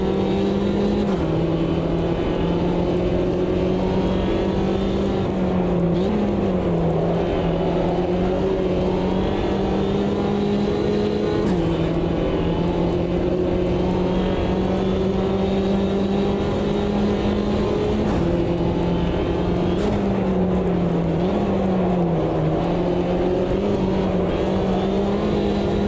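Race car engines whine steadily in the Assetto Corsa EVO racing game, a loud continuous drone with pitch shifting as gears change and the car accelerates, no voices over it.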